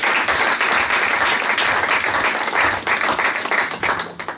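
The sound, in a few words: congregation applauding and cheering in church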